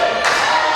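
A wrestling-show crowd roars in a dense, loud swell of cheering that rises sharply and holds, with no clear talk over it.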